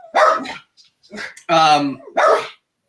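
A dog barks loudly nearby in several sharp bursts, three or four barks with short gaps between them, heard alone with no talking.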